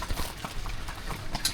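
Hooves of a horse pulling a carriage in Tunisia clip-clop in a steady rhythm at moderate distance, over faint outdoor background noise.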